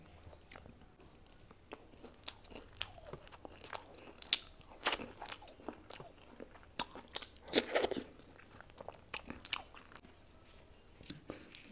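Close, crunchy bites and steady chewing of aloo paratha with paneer, sharp crisp snaps scattered irregularly over about twelve seconds, the loudest crunches clustering near the middle, with no talking.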